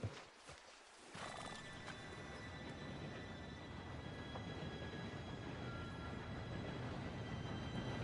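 A steam train rolling in during a Red Dead Redemption 2 heist scene, a steady heavy rumble and clatter that swells from about one second and holds loud to the end, with horse sounds mixed in.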